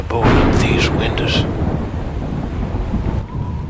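A loud storm in a video game, with heavy rain hissing and thunder rumbling close and continuous, and a voice-like burst early on.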